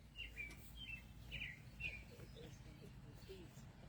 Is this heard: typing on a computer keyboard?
no